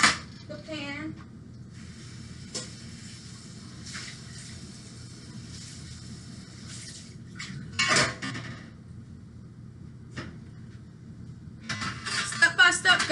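Chicken goes into a baking pan with scattered metallic clanks, scrapes and cutlery clinks, quiet stretches between them and a louder clattering burst near the end.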